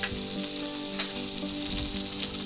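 Bacon grease sizzles steadily in a hot pan while a ribeye steak cooks, a dense, even crackle with one brief louder pop and no voices.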